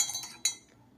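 Glasses clink together in a toast over drinks of lemon, ginger and honey: a single bright, ringing clink, close and fairly soft, with faint lighter taps before it in a quiet room.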